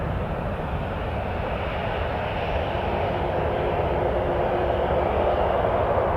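A WestJet airliner roars down runway 23 at Toronto Pearson on takeoff, a loud, steady, broadband jet rumble holding throughout under misty overcast.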